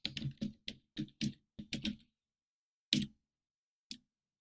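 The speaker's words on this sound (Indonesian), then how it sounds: "kita ketikkan instance name-nya, yaitu input nama" Crisp keystrokes on a computer keyboard, a quick run of about ten clicks followed by two isolated taps after pauses, close and clear in an otherwise quiet room.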